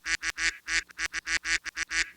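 A cartoonish duck sound effect gives about a dozen rapid, nasal quacks in a quick uneven rhythm, loud and close with no other sounds.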